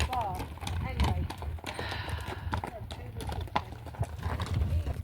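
Horses' hooves clip-clop along a road in a steady rhythm, passing close by amid outdoor noise while people talk.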